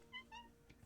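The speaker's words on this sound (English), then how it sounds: "My cat wants to play." A pet cat meows twice in quick succession, short rising cries close by and fairly quiet, followed by a soft rustle.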